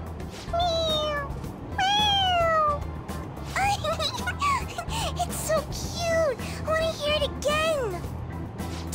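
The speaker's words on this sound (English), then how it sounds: "It's, a toy. It meows when you press on its head." A toy cat in the Persona 5 Royal video game meows when its head is pressed, giving several clear, rising-and-falling electronic meows in quick succession over a low background hum.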